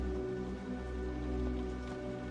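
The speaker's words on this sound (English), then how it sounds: "The rain outside is a static hiss, like the background radiation of a dying world." Steady rain falling outside forms a continuous hiss beneath a low, droning ambient hum, even and unbroken throughout.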